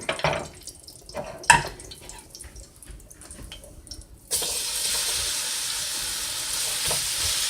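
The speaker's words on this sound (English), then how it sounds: "I'm heating my skillet. And what I'm going to do is brown this meat" Beef stew meat hits a hot skillet with a little vegetable oil. After a few quiet clinks and handling noises, a loud, steady sizzle bursts in midway and holds without letting up.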